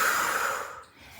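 A yoga instructor's long, breathy exhale during a forward-fold breathing cue, a single close airy whoosh that fades out over about a second with no talking.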